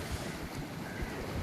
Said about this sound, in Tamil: பாருங்கள் கடல் பாருங்கள் எப்படி அடிச்சிட்ருக்கு பாருங்கள்